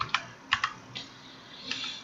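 Someone types on a computer keyboard while writing a basic C# program, with a handful of sharp, irregular key clicks separated by pauses, close and fairly quiet.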